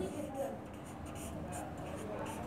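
A teacher writing out a Bengali class-two lesson title, likely chalk on a board, a steady faint scratching that runs through the whole stretch with no voice over it.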